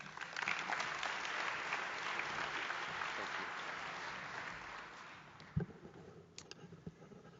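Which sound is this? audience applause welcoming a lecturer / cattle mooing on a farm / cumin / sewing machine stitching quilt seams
audience applause welcoming a lecturer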